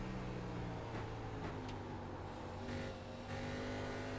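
A race car, with Tyler Ducharme at the wheel, drives a racing track, its engine a steady mid-level drone with slight revving swells throughout and no voices.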